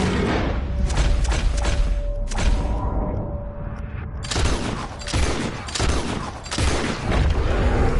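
Heavy gunfire in the Western video game Red Dead Redemption 2, a dense sustained barrage of shots and booming thuds, loud and close, continuing almost without pause.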